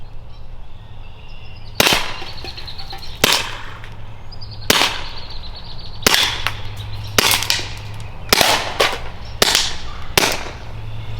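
A SABRE pepper projectile launcher fires seven shots at aluminum cans. The loud, sharp cracks come at uneven intervals over steady outdoor background noise.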